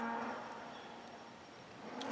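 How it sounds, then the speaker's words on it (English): Cows bellow at a farm gate, a long, low, drawn-out moo heard from some distance over steady outdoor background noise, with no talking. "those cows down there kind of put the kibosh on that for today, because they'll be standing there bellowing at that gate for hours"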